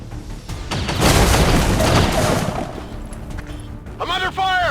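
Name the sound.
gunfire and explosions from the video game XCOM 2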